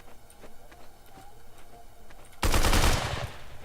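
A gun fires in a video game: faint ticking, then a sudden loud burst of rapid automatic shots lasting about a second before fading back down.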